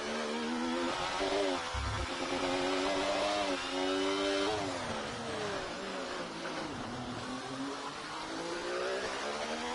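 An onboard Sauber Formula 1 car engine in a racing video game at a Singapore round, screaming steadily at high revs with rising and falling pitch through gear changes, loud and continuous, no voices.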